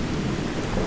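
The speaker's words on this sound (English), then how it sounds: "Listen to that thunder." Rolling thunder with steady rain in the video game Skyrim, a dense, continuous low rumble and wash of rainfall throughout, loud and close with no talking.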